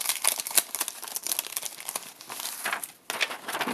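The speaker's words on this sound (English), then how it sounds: "So I peel them back, and then if there's not enough foam tape on the inside, I will add some." Foam tape peeled off the back of small craft pieces, a close crinkling, tearing crackle in quick rustling bursts with a brief pause near the end.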